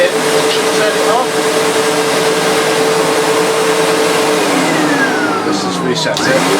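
A Sebo Automatic X1.1 upright vacuum cleaner runs steadily with its brush roll spinning, a loud continuous motor drone and whine that shifts in pitch near the end, with a person talking over it.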